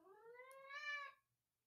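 A single drawn-out cat meow, loud and close, rising slightly then cutting off, followed by near silence.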